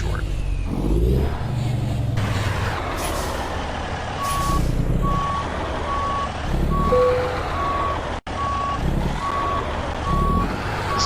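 Steady reversing beeps repeat from a truck backing up a trailer, set over a loud engine rumble with hissing bursts, a brief air-brake-like release and voices talking nearby.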